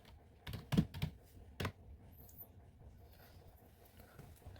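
Fast bursts of computer keyboard typing as router configuration commands are entered for a RIP network setup, a few quick clustered keystrokes near the start, then quiet room tone.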